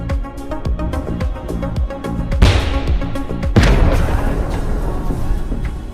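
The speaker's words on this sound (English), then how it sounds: "In response, the Ukrainian tank fires back and scores a direct hit." Tank cannon fire in combat, a Ukrainian Abrams hitting a Russian tank that explodes, with heavy booms landing over a busy, rumbling backdrop, including two especially loud blasts around the middle and a long rolling roar afterward.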